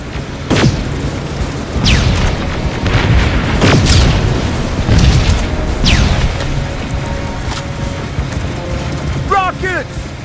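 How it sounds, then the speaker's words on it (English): Incoming rockets explode in Terminator Resistance as a series of heavy, booming blasts with rumbling debris, several sharp impacts spaced a second or two apart, loud and close against a dense battle din. "Rockets! They're heading this way!"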